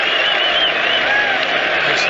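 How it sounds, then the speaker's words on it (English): Large cricket crowd at the 2005 England v Australia Test roaring and applauding as Shane Warne concedes his hundredth run, a dense, sustained cheer with whistles filling the whole stretch at steady loudness. "Shane Warne has conceded 100 runs exactly, and he's getting one of the biggest cheers of the day"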